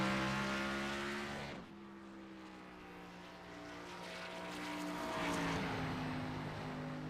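A race car in the FUEL Premier Series laps Richmond Raceway, its engine a steady harmonic howl that dips briefly, then swells louder as it draws nearer before easing off.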